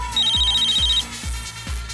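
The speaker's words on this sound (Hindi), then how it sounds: "लेकिन अभी तक अभिजीत का फोन क्यों नहीं आया?" A telephone rings indoors in a steady electronic pattern of repeated bursts, a short double tone cycling about four times per second, clear and moderately loud with no talking.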